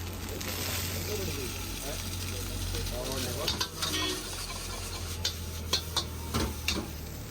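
Chicken fried rice sizzles and gets stirred in a pan at a roadside eatery in Kodaikanal, a steady frying hiss with clicks and scrapes of a utensil against the metal. People talk in the background.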